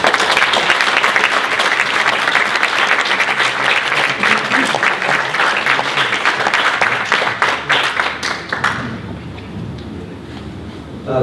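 An audience gives sustained, dense applause to welcome U.S. Special Envoy Randy Berry at a Human Rights First event. The clapping stays loud for about nine seconds, then thins and fades.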